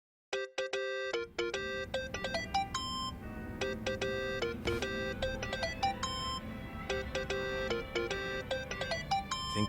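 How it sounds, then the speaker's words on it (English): Phone ringtone in the video game Yakuza: Like a Dragon, a bright electronic melody of short repeating notes that plays steadily for several seconds over a low background hum, with no talking. "Think that's your phone, man."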